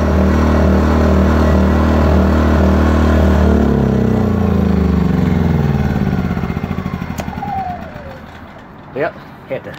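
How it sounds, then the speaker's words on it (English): A Wind 2000 generator runs at a steady idle, its low harmonic drone fading and wavering after a few seconds as other faint sounds come in near the end. "So the Wind 2000 generator is still running good."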